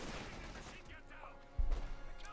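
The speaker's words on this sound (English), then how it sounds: "that's the 50 caliber here" In a Company of Heroes 2 battle, a .50 caliber machine gun fires in a dense, rapid burst, then a sudden heavier blast of gunfire cuts in partway through, all mixed under game noise.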